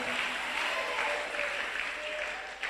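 A church congregation applauding and cheering for the Lord, dense steady clapping from a crowd that fills the room, with faint voices mixed in.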